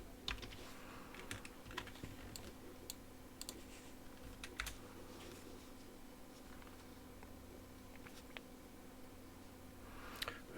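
Quiet, steady typing on a computer keyboard, a run of soft irregular key clicks close by with a few sharper taps, against a low constant hum.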